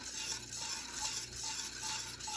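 Whisk working butter into thick chocolate pie filling for a German chocolate pie, a soft, rapid, continuous scraping and stirring rhythm, close and fairly quiet, with no talking.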